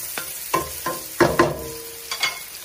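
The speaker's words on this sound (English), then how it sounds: "I'm going to drop my onions, and trust me, I am going to just let this hang out a little bit." Onions frying in oil in a non-stick pot, with a soft steady sizzle broken by several sharp scraping and clattering stirs at irregular intervals, close by and with no talking.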